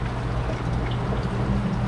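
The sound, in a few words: coolant draining from a car radiator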